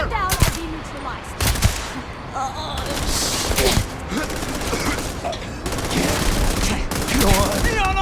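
Automatic gunfire rattles through a Starfield firefight in bursts from several weapons, sharp cracks layered with ricochet-like zips, loud and dense, with shouted voices mixed in.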